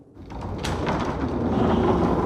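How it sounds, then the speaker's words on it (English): A door is pulled open with a brief creak and thud, then a rising rush of wind and storm noise roars steadily through the opening, loud and continuous. "I reached for the door and pulled it open."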